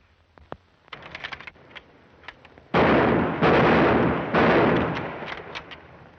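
Rifle volleys crack across a firing range in a 1941 film, several loud sustained bursts following a few scattered sharp shots, with no voices.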